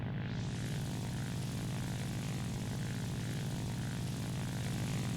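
A fighter plane's engine in flight during a video game dogfight, a loud, steady propeller drone with a deep throbbing low end that holds constant throughout.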